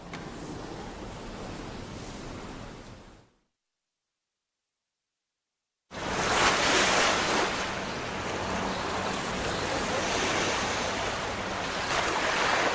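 Calm Mediterranean sea waves wash steadily along the coast at Latakia, Syria, a broad continuous surf hiss with a little wind, broken by a few seconds of complete silence before the water returns louder and fuller.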